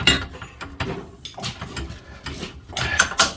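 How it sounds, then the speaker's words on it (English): A ratchet turns a bolt on a Suzuki Jimny Gen 4 rear axle during an Old Man Emu lift kit fitment, giving rapid metallic clicking bursts with clanks close by. "I'm going to use this ratchet."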